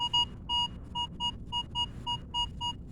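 A Minelab Vanquish 440 metal detector sweeps a trashy park and gives a solid repeating target tone: about ten clean, evenly spaced electronic beeps, close and clear over low background noise.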